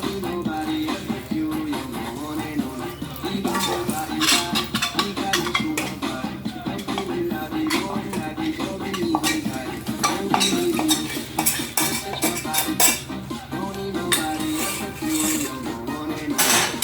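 A wine cake batter of caramelized brown sugar and olive oil is stirred in a bowl, a steady run of scraping, sloshing strokes with occasional utensil clinks against the side, close and continuous throughout.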